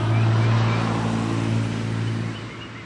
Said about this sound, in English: We have like a legion of post office trucks apparently on the street too